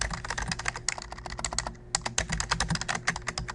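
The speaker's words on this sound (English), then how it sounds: "As you type in your terms" Steady rapid typing on a computer keyboard, close and clear, a dense run of clicking keystrokes with one short break midway and no talking.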